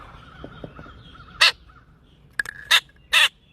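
A crow-like bird caws three times in sharp, loud bursts, the first alone and the last two close together with a short squeak between, over quiet background in a reaction setting.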